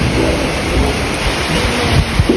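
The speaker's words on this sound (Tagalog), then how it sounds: "Pero tagaod gid pag-abot namo ni bundak gid ang ulan." Heavy rain pours down at Cowboy's Camp, a mountain camp in Bukidnon, as a loud, dense, unbroken downpour with no voices.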